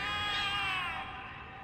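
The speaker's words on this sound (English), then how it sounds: "The cats are alarming" Several cats in The Cat Lady video game let out a sustained, wavering, high-pitched meowing wail, loud and continuous, fading slightly toward the end with no talk.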